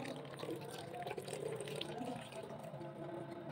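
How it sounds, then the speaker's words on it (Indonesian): A can of evaporated milk poured into a sweet iced drink being mixed for breaking the fast, giving a soft, steady gurgling stream of liquid at close range, fairly quiet throughout. "Tambahkan 1 kaleng susu evaporasi"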